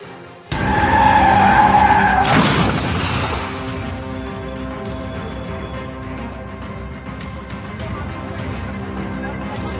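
A speeding Audi car in Jaipur skids out of control, with a sustained loud tire squeal and engine roar, a sharp burst of noise, then steady road noise and hum.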